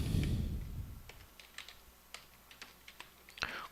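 Keys on a computer keyboard are tapped in an uneven run of crisp, close clicks while a menu option is entered into a Lazarus Pascal program.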